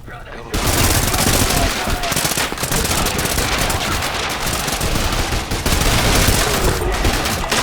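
Rapid, loud incendiary shotgun blasts from the game Trepang2 fire in a dense, continuous barrage, close and overlapping for several seconds with almost no pause.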